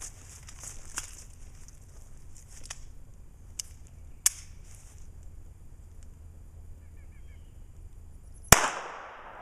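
Taurus TCP 380 pistol firing Monarch ball ammo, mostly quiet with a few faint sharp cracks spaced apart, then one loud, close shot near the end.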